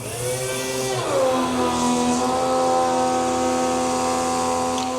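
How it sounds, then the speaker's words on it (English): A 110-volt electric pump moving diesel fuel out of 5-gallon cans, its motor hum rising in pitch after the first second, then holding a steady, loud drone close by. "I'm using this 110 pump"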